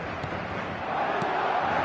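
A football stadium crowd reacting to a goal sends up a steady, broad roar of cheering that holds at an even level and swells slightly toward the end, with no clear voices standing out.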